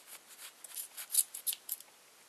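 Scissors snip through wrapped yarn loops to make a pom pom, a quick series of about ten crisp, close cutting sounds with short rustles between them, alone and fairly quiet.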